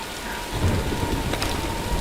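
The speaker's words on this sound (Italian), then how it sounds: "Aspettiamo che passi la tempesta." Heavy rain hisses steadily during a Tomb Raider thunderstorm as low thunder rumbles and rolls beneath it, loud and continuous, with no voices.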